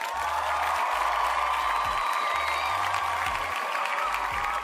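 A canned crowd-cheering and applause sound effect plays on a livestream, a steady wash of clapping and cheers at moderate level with low rhythmic thumps beneath it.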